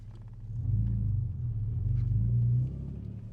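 A manual Infiniti G37 Coupe engine held at a steady raised idle of about 2000 RPM, a deep continuous rumble with slight swells, close and alone.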